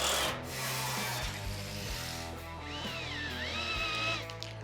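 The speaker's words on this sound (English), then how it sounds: "I'm just gonna screw this to the trailer" A fender mount being screwed onto a trailer in a custom garage, with a rubbing, rasping drive sound and short whirring squeals from the tool. It sits close and moderately loud, with no talking.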